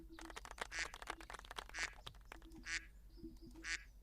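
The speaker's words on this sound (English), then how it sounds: "I keep hearing that duck quack" Duck quack effect from a Discord soundboard, four evenly spaced quacks, faint under game sound and rapid clicking, no talking.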